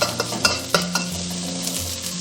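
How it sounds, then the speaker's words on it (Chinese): Aromatics hit hot oil in a wok and stir-fry with a steady loud sizzle, punctuated by a few sharp clacks of a spatula against the pan. "锅里来一点油，我们先把料头给它爆香。"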